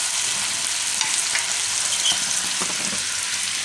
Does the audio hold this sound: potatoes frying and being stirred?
yes